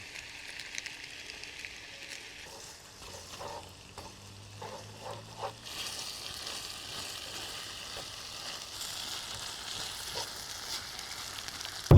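Yakisoba noodles frying with beer and sauce over a campfire on an island camp, a steady sizzle with stirring and scraping, growing louder and more intense midway.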